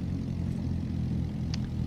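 Propeller airplane in the X-Plane flight simulator game drones steadily with a low, even engine hum and a faint brief tick partway through, no voices.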